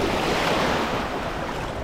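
Sea surf rolling onto a beach at an all-inclusive holiday resort, a loud, continuous wash of breaking water mixed with wind rumble on the microphone, no voices.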